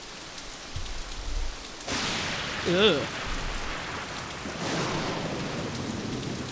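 Steady rain with rumbling thunderstorm swells in Nancy Drew: Message in a Haunted Mansion, set in a stormy San Francisco Victorian mansion, with a short vocal groan over the downpour.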